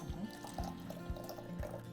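Water poured into a jar while making a sweetened, salted brine, with several soft splashing bursts and a continuous trickling fill, close and fairly quiet.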